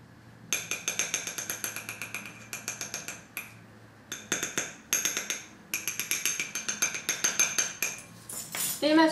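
A metal spoon scoops and clinks rapidly against a small container while measuring ingredients for homemade bronze eyeliner, producing bright, close, rhythmic tapping in bursts with short pauses.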